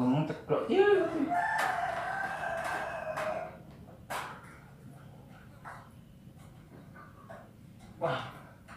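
A rooster crows loudly and close by in a Javanese household, one long rising call near the start, followed by quieter clucks and scattered background noises, with occasional voices around.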